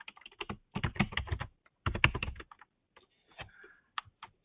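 Close, quiet typing on a computer keyboard while an item description is entered, with rapid clusters of keystrokes, brief pauses, then a few scattered single taps.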